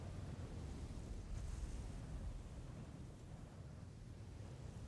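Sea waves wash and rumble low and steady around a small rowing boat, a soft continuous surf with a light swell midway and no voices.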